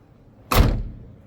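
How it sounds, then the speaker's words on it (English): A Weinsberg camper van door swings shut in one solid close, a quick slide into a dull thud that rings out hollow for a moment at close range, no talking. "Listen carefully when I close the door."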